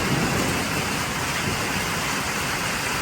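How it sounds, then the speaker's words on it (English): Steady rain pours down outside a half-built garage on a Sunday morning, a dense, even hiss that fills the space without pause. "And the rain is coming down."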